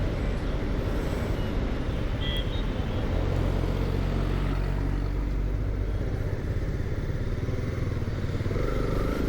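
A 2022 Honda CB 300R BS6 motorcycle on the move, its steady engine drone and road rumble filling the scene continuously, with wind and faint traffic around it and no talking.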